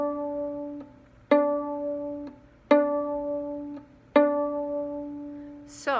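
Four clean plucks on the D string of a string instrument, each a sharp attack ringing down slowly, spaced about 1.4 seconds apart, close and alone.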